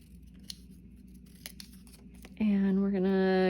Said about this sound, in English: I'm going to cut the one that says pumpkin